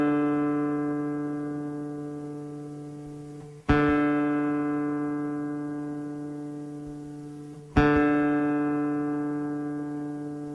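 A classical guitar's D string is plucked during tuning: three long sustained notes, each struck firmly and left to ring and slowly fade for several seconds, solo and close with no talk.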